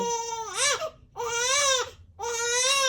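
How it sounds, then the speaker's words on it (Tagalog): An infant daughter crying close by in three long, loud wailing bursts with short breaths between them, strongly pitched and alone. "Ang sarap ng pakinggan ng yung iyak ng baby kasi binsan lang yan"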